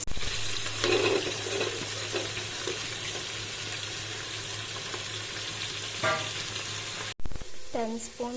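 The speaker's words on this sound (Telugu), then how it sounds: "టెన్ స్పూన్స్ ఆయిల్ వేసుకొని వెజ్జీస్ అన్నీ అందులో వేసుకోవాలి." Vegetables sizzle steadily in about ten spoons of hot oil in a pan. The frying crackle is loud and continuous, broken by occasional clinks of stirring. A short burst of other kitchen noise comes near the end.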